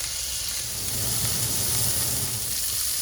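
Burger patties fry in a hot pan with a steady, dense sizzle and hiss that stays close and even throughout.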